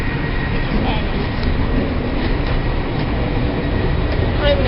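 A passenger train runs steadily on a Manchester to Budapest rail journey, giving a continuous, loud broadband rumble with a faint high tone throughout and no clear breaks.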